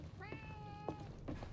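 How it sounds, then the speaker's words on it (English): A cat meows twice in a cozy video game, the first call long and drawn out with a clear tonal pitch, the second shorter, both fairly soft against a low steady background hum. "That cat is adorable."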